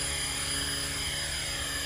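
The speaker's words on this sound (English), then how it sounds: "That's a big chopper," Large 6S electric RC helicopter in flight, a steady close whine of rotor and motor with a broad rushing hiss, continuous and even for the whole stretch with no voices.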